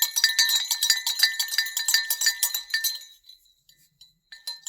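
Handmade textured clay bell clinking rapidly in dense, bright, glassy strikes for about three seconds, then fading to a few sparse, fainter rings.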